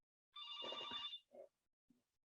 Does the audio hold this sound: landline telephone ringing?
yes